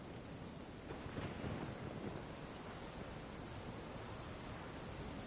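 Steady heavy rain pours down in a thunderstorm, a dense hiss with a low rumble swelling early on, continuous and close, with no voices.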